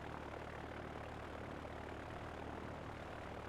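Airplane engine droning steadily in the naval warfare game Victory at Sea Pacific, a constant broad roar holding at even loudness with no speech over it.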